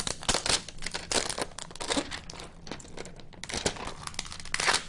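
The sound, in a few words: peeling protective plastic off a Nook tablet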